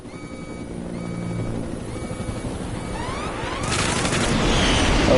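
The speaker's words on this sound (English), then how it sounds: "there's a jet coming after us" In Metal Gear Solid 5, a helicopter drones steadily while a jet closes in from behind, rising to a louder roaring rush and rumble near the end.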